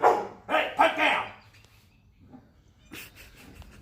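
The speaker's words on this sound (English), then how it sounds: "There's that stray dog. I think it's a wild dingo or something." A stray dog thought to be a wild dingo barks in a few loud, close bursts over the first second and a half, then falls quiet, with a fainter sharp sound near the end.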